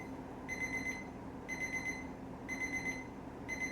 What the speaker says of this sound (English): That's the timer.